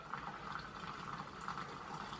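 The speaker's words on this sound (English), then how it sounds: "pouring water into said pot noodle" Boiled water from a kettle pours into a plastic Pot Noodle pot as a soft, steady liquid gurgle, faint and close with no talking.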